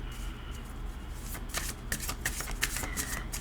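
A deck of cards is shuffled for a tarot-style card reading, a close, crisp riffle of rapid flicking snaps that grows busier halfway through, with no talking.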